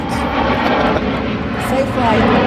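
A fixed-wing airplane roars overhead above a nursery, a loud, broad engine rumble that holds steady and swells slightly at the end, with someone talking over it.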